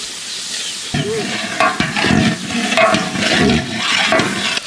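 Spices such as turmeric, bay leaf and coriander powder are tipped into cooking dal and stirred, giving a close, fizzing sizzle broken by scraping and stirring noises, loud and with no talk.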